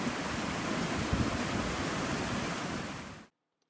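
A creek's flowing water makes a loud, steady rushing hiss for about three seconds, then cuts off abruptly into silence.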